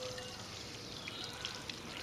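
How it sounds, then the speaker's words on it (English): Water is poured onto beans growing in a container garden, a steady close splashing stream running throughout. "Give my beans the rest of the water."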